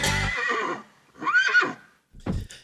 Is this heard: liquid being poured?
no